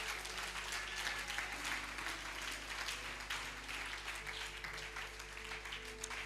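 A church congregation applauds Jesus in a dense, continuous wash of clapping that fills the room steadily from start to finish, with no voices rising above it.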